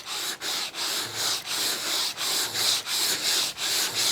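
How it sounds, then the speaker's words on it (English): Sandpaper rubbed back and forth over a melted patch on a cross-country ski base, a steady close scratchy rasp in repeated even strokes roughly every half second. "we just simply sand the patch flat and smooth"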